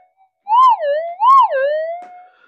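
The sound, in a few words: GPZ7000 metal detector coil responding to solder blob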